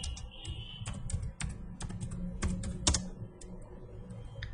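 Quick bursts of keystrokes on a computer keyboard as a Linux terminal command is entered, uneven clusters of close, crisp clicks with short pauses between them and a low hum underneath.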